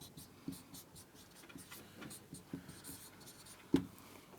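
Chalk or marker writing on a board during an English lesson, heard as faint, irregular scratches and taps with a sharper knock near the end, quiet and without talk.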